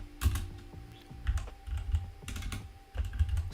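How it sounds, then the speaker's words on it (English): Keystrokes on a computer keyboard while entering code, arriving in short irregular bursts of close, crisp clicks with brief pauses between them and no talking. "It took me a few days to get used to this keyboard, but we'll get it eventually."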